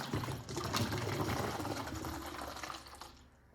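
Water gurgling and draining from a bottle as big air bubbles escape, a loud, churning burble that fades away toward the end.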